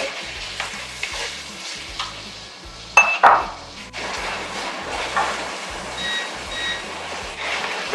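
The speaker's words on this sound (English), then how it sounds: "Now I'm going to add the tomatoes into this." Tomatoes go into a hot pan of cooked ginger garlic paste for an Indian-style duck pepper roast, giving a steady close sizzle and frying hiss with stirring scrapes and a few sharp clatters of utensil against metal.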